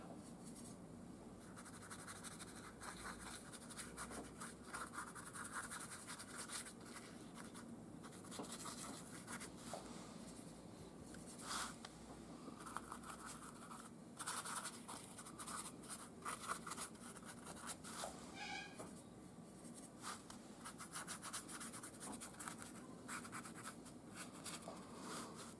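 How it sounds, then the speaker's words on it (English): Paint dry brushed onto a junk journal cover, a steady soft scratchy bristle rasp that repeats in short strokes throughout, quiet and close with no talk. "maybe just a little bit of dry brushing on there"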